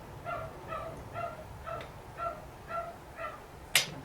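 A dog gives a string of short, evenly paced whining yips, seven or eight pitched cries at moderate volume, followed by one sharp click near the end.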